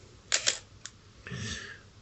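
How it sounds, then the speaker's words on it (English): The shutter of a 1967 Ricoh Singlex TLS manual M42-mount film camera fires in a crisp double clack, then a small click, then a softer winding rasp, all close and isolated. "A shutter release button"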